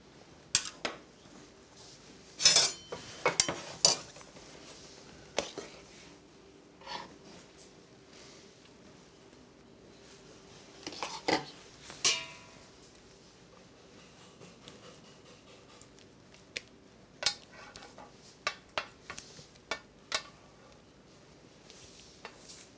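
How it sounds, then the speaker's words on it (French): A ladle and spatula work chocolate ganache onto a sponge cake base during cake assembly, with scattered quiet metallic clinks and scrapes, a few sharper knocks, and soft smearing between them. "je vais ajouter une louche de ganache sur mon biscuit et commencer à étaler"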